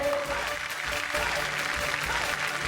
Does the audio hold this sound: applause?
yes